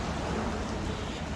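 Heavy rain pours down outdoors as a dense, continuous wash of hiss, close and steady without a break.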